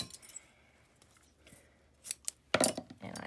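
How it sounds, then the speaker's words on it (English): Scissors snip through a length of red ribbon, a few faint blade clicks giving way to one sharp, close cut near the end, with no one talking. "I'm gonna cut approximately 9 to 10 inches"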